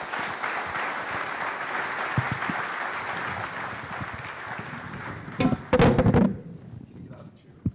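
An audience at a real estate analyst conference applauds its panel, a steady dense clapping that carries on for several seconds, swells briefly near the end with a few loud thumps, then fades out.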